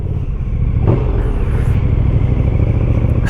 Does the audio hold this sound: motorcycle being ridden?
yes